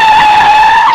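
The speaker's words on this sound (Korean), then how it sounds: "저 멀리 차도 쪽에서 급작스러운 브레이크 소리가 들려왔다." Car brakes screech sharply on a road, one loud sustained tire squeal lasting the whole moment, close and alone with no voices.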